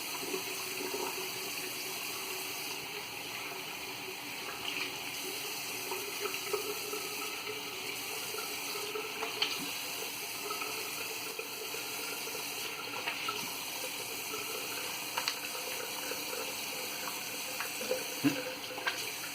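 Tap water runs steadily in a bathroom sink while a shaving brush is wetted, a continuous soft splashing stream heard close up with no talking.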